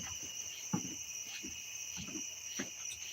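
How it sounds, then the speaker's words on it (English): Crickets chirp outdoors in a steady high-pitched drone, with scattered soft knocks and rustles beneath it, fairly close and without talking. "Like I heard that one cricket just fire off in that exact moment."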